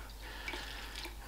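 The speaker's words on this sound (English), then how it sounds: "We pour that in nice and steadily and carefully." Water mixed with F10 antiseptic pours steadily into a fogger, giving a continuous close splashing and trickling with a faint low hum underneath and no talking.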